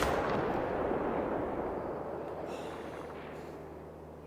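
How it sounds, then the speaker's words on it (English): A 30-06 rifle fires at a turkey in theHunter on a Mississippi hunting ground, one loud booming report that opens the clip and decays slowly into a long rumbling tail. "Think there's anything left of that turkey and shot it with 30-06?"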